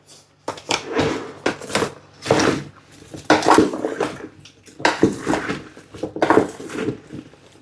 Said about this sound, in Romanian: Iar acum voi amesteca cu o lingură de lemn.